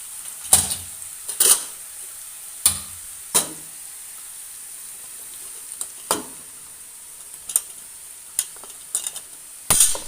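A spoon scrapes and stirs chili powder into hot oil with garlic and ginger for a raw dates pickle, making about ten sharp, separate clinks against the pan over a faint, steady sizzle, close and moderately loud.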